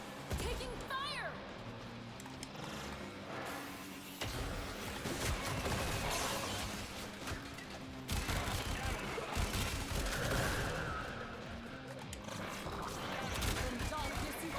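Dense, continuous gunfire and explosive bursts from the shooter game Warframe 1999, rattling steadily for several seconds alongside game effects, with players talking over the noise.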